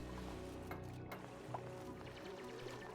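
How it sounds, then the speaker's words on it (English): Water pouring and splashing into a base in Oxygen Not Included, a quiet continuous gurgling stream with soft drips and sloshes under a low background hum. "More water coming in, but it's fine. It all splashed down there."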